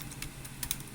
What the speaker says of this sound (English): so I'm typing www.